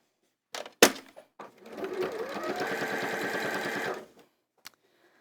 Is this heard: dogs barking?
no